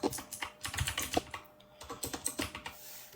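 Keys clatter on a computer keyboard while a new display name is entered in Zoom, in quick irregular bursts of crisp clicks with a short pause midway, close and quiet.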